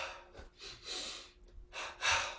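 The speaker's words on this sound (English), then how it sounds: "Inhale out, exhale forward, double inhale up, double exhale down." A yoga breathing pattern of double inhales and double exhales, heard as four to five close, breathy puffs in quick paired rhythm, near and unaccompanied by speech.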